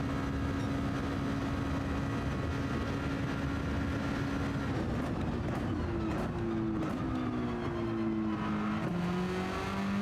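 Race car engine in a racing video game lapping Daytona, a steady loud drone with shifting engine tones that climb and drop as gears change, continuous throughout with no voices.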